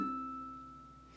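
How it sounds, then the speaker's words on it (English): One ukulele harmonic at the 7th fret of string 1 rings out, a clear bell-like tone fading steadily on its own, ending with a faint brushing noise. "we have another harmonic"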